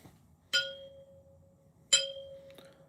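Old horseshoe from a horseshoe toss set struck twice, each hit a sharp metallic clang that rings on with a sustained tuning-fork-like tone before fading, followed by a lighter tap.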